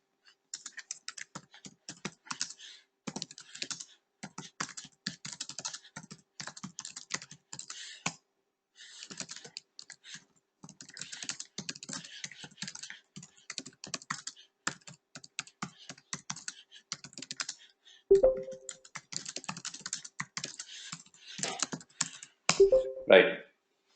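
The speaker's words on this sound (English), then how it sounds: "Let me just type it out because Vinod is not able to hear me." Quick, light keystrokes on a computer keyboard come in bursts with brief pauses, fairly close and soft, and a couple of short chime-like tones sound near the end.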